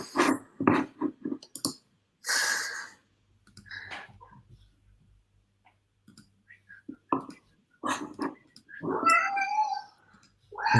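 Hungry cats meow repeatedly close by, a string of insistent cries and drawn-out yowls with short quiet gaps between them, alongside a few faint clicks and rustles.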